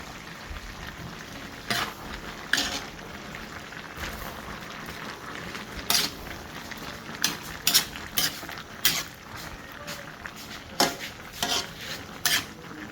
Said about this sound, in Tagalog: Haluin na lang natin.